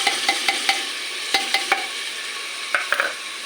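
Onions hit hot oil already holding pounded garlic, mustard seeds and cumin for khichdi, giving a continuous sizzle broken by scattered sharp clicks and scrapes of stirring, close and fairly loud.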